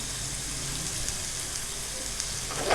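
Arbi (taro root) pieces frying over full flame in half a cup of hot oil for a masala sabzi, giving a steady, close, broadband sizzle that holds evenly throughout and swells slightly louder at the end.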